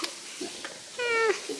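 A black-and-white kitten gives one short, clear meow, close by, after a brief stretch of quiet household room sound.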